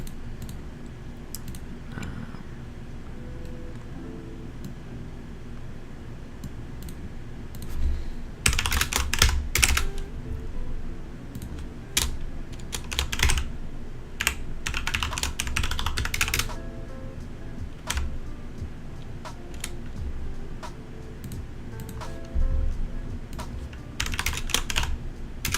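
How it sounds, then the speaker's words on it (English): Quick bursts of typing on a computer keyboard, close and crisp, with clustered rapid key clicks separated by short pauses over a low steady hum, no voices. "type it up really quickly."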